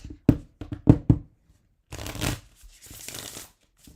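A tarot deck is shuffled by hand: a quick run of sharp card snaps and riffles, then a longer rustling slide of cards, close and clear in a quiet room.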